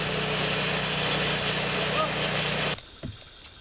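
A mobile sawmill engine runs steadily and loud in a Cameroonian community forest, a continuous droning roar that cuts off abruptly near the end, leaving a few faint knocks.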